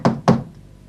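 Two sharp knocks land on a door in quick succession, close and distinct, followed by a brief quiet.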